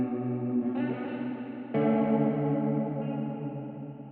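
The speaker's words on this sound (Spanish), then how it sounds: "eso acaba dándonos un efecto más o menos como el chorus" A sustained synth chord washed through a modulated hybrid reverb, its shimmering, slightly detuned tail giving a chorus-like wobble; the tone steps up in brightness partway through and holds steady and full throughout.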